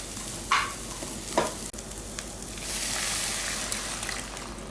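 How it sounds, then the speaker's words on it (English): A pan of frying food containing chopped chilli sizzles and crackles steadily, with two sharp stirring clacks early on and a broad hiss building toward the end. "Fry that for 5 minutes."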